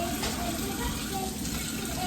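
Rice for Mexican fried rice is washed by hand under a steady, loud stream of running tap water that rushes on unbroken throughout.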